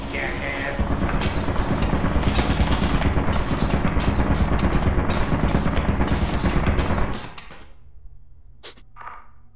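Rapid automatic gunfire from a bank of turrets in the video game Lethal Company, a loud sustained mechanical rattle lasting several seconds before cutting off, followed by a couple of brief clicks.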